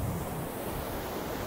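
Ocean surf at a cold beach, a steady broad wash of waves with wind rumbling against the microphone, no voices.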